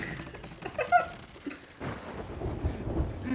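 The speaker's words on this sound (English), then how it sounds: "Bro, there's a storm." A thunderstorm rolls through the pirate sailing game Sea of Thieves. Rumbling thunder swells over a steady wash of rain and sea noise, with a louder peak partway through, and no voices over it.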